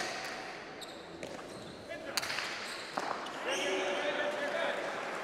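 A cesta punta pelota serve during a semi-final match at Saint-Jean: a few sharp hard ball impacts and bounces on the court, with crowd murmur and commentary talk running underneath.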